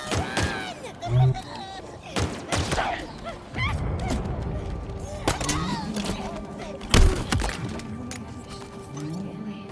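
Gunfire in a video game firefight: sharp cracks and heavy thuds burst out irregularly amid explosions and rumbling, with voices talking over much of the action.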